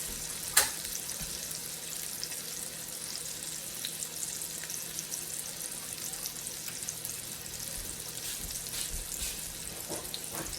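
Pork loin frying in butter in a pan, a steady soft sizzle and crackle running throughout, with a sharp clatter near the start and small pops scattered across.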